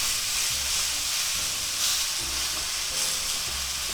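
A chuck steak sizzles in a cast iron skillet, a loud continuous frying hiss with crackling spits and pops throughout, close and steady, with no talking.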